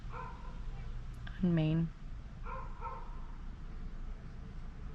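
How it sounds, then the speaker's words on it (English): A dog gives a short burst of barks and yelps partway through, under a person talking steadily in a quiet room. "I don't know why my dog is barking."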